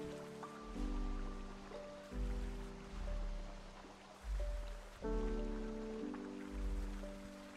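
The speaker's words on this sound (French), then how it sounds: "Et donc là, c'est une cascade." A waterfall's steady rushing water, a moderate wash of noise running throughout beneath repeating tonal musical notes, with no voices.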